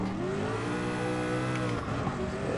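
A Group C race car in Gran Turismo Sport drones with a loud, sustained high-revving engine note that bends in pitch as it holds speed, dense and continuous throughout.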